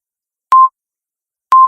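Two clean telephone keypad tones, each short and identical, spaced about a second apart, loud and isolated against silence.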